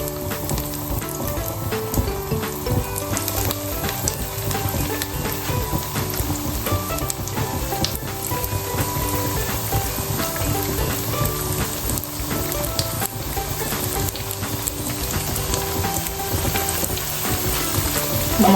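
Stuffed potatoes, placed upside down and four at a time, fry in hot oil with a steady, loud, dense sizzle and crackle that runs unbroken throughout, with no talking.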